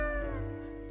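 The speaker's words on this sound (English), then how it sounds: "Meow, the cat mutters in contentment." A single soft, drawn-out cat meow, content in tone, heard up close in the video game Death & Taxes, alone and without any talk.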